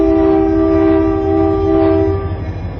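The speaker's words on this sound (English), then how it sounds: "Here we see some pre-merger SP diesels." Southern Pacific diesel locomotives at San Luis Obispo station, heard as a loud, sustained horn-like drone with a throbbing engine rumble beneath it that eases slightly near the end.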